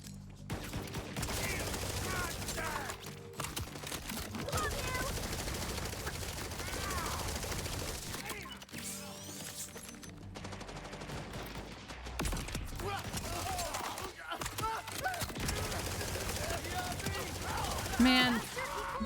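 Automated turret firing in the Borderlands shooter game, rapid bursts of gunfire layered with explosions and game effects, loud and dense throughout with a voice talking over it.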